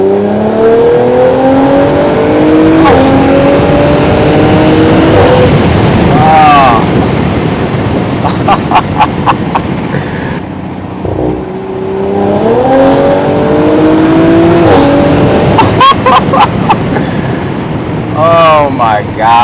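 An Audi RS5 engine revs hard during a ride, rising and falling through several pulls with sharp exhaust crackles and pops between them, loud and close, with wind noise throughout and people talking over it.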